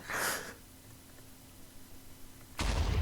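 A loud blast bursts out in Minecraft as a house explodes, fades into a low hum, and then a second heavy explosion erupts near the end.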